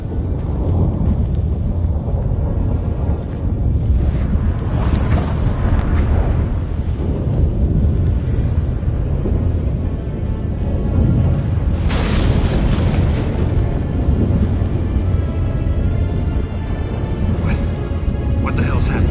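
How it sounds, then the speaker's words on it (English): A storm in The Witcher 3 rolls through with a loud, continuous rumble of wind and thunder, swelling into heavier booms twice, while voices talk over it. "That a storm?"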